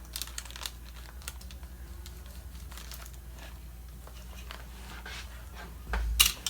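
Laminating cloth being cut along a model aircraft fuselage, a steady soft crinkling and snipping close up, with a sharper burst of rustling near the end.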